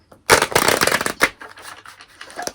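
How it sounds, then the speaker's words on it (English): A deck of tarot cards gets a quick riffle shuffle, a dense crisp flutter of card edges lasting about a second, close and fairly loud, followed by a few softer slides and taps. "I'm going to give it one last shuffle"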